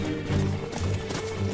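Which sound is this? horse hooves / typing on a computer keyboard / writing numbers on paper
horse hooves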